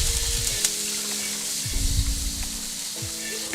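Water hits a hot preheated cast iron wok with a loud continuous sizzle and hiss, along with scraping swipes and a few clanks from the rinsing.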